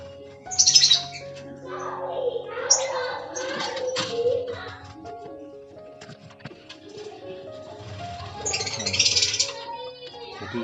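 Lovebirds at a breeding farm in Belitang, East OKU, chirp and tweet in bright, overlapping calls, loudest in clusters near the start and end, with a steady background chatter of birds throughout.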